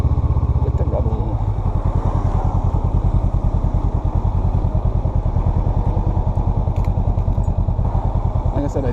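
A 2021 Honda Rebel 500 motorcycle cruising along a main road, its engine pulsing in a steady, dense rhythm with loud, close wind rumble throughout, with no talk.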